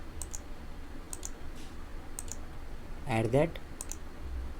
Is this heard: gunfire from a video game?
no